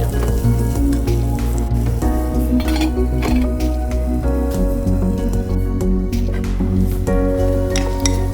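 Onions for a Kerala fish and tomato curry are sautéed in a pan with curry leaves and salt, giving a loud, close, steady sizzle. A metal spoon stirring against the pan adds occasional clinks throughout.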